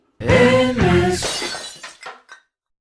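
A glass tips over and shatters, giving a loud crash followed by a brief scatter of tinkling shards that dies away within about two seconds.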